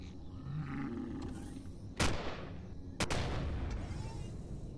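A turret firing in the Empyrion Galactic Survival game: two sharp, loud blasts about a second apart, each with a booming, ringing tail, over a low engine-like rumble.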